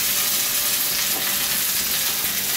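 Red chicory sizzles in hot Italian olive oil as it is sautéed briefly in a pan, a continuous bright frying hiss with soft stirring underneath.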